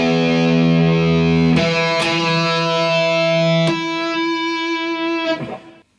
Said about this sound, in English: You're going to tap a harmonic on the 14th fret.